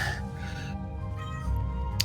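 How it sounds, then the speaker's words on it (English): A pet cat meows close by, a couple of short calls over a quiet room hum with faint game music beneath. "So if meows annoy you, don't come on my runs."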